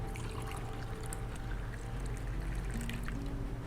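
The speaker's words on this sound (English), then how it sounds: "He speaks hardly but pours me a drink before sliding it down." Liquid pours steadily into a crystal glass in a video game bar scene, a continuous close trickle over a low background hum with no talking.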